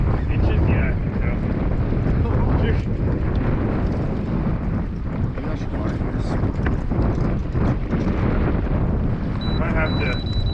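Strong wind buffets the microphone and rushes steadily over a kayak out on the water while fishing, a loud constant roar with scattered knocks and bumps throughout.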